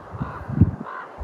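A raven in the backcountry gives a single short, hoarse croak close by, with no talking.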